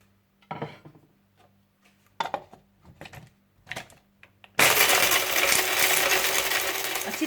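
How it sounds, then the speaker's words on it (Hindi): A grinder whirs loudly as green cardamom pods and black peppercorns are ground for biryani masala. A run of small clinks and taps comes first, then the steady grinding roar takes over. "सब्ज इलायची और काली मिर्चें। और इन्हें अच्छी तरह से आप पीस लीजिए।"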